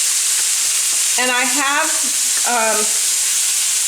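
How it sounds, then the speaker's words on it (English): Shrimp sizzling and frying on a hot hibachi pan, a steady loud hiss filling the whole clip, with someone talking briefly over it. "And then I'm going to add the shrimp, where the shrimp doesn't take very long to cook it off"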